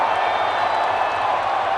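A dense, steady roar from a large football crowd at a World Cup match in the second half, with many voices blending into a continuous wash of chanting and singing and no single voice standing out.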